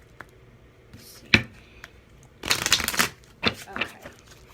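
A deck of reading cards being shuffled by hand in a quiet room: a few soft taps, then a dense riffling burst in the middle and shorter shuffling bursts after it.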